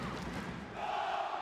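Handball arena crowd at a women's EHF EURO 2014 match between Romania and Denmark, a broad sustained roar that swells and grows louder near the end.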